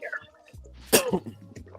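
A single person sneezes sharply near the middle, with some brief vocal noise before and after it.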